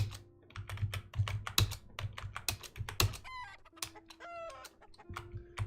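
Chickens cluck and a rooster crows in the video game Geiken, mixed with a steady run of quick keyboard typing clicks and short electronic game tones.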